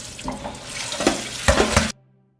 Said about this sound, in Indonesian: Waktu mencuci beans itu juga sambil kita pilih.